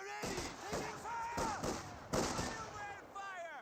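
MG42 machine gun fire in the Company of Heroes 2 video game, with repeated loud bursts of gunfire and booming impacts over a busy battlefield, with game voices mixed in.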